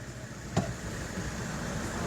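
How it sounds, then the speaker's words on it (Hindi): A car drives the wrong way through a traffic jam on a highway near a toll plaza around Jammu, heard as a steady rumble of engines and road noise with one brief sharp bump. "वो रॉन्ग साइड पे गाड़ी आ रही है।"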